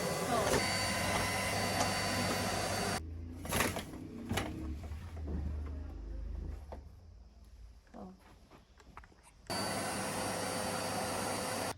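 A household vacuum cleaner roars steadily at close range, cuts off for several seconds of quieter room noise and faint clatter, then starts up again with the same even whoosh.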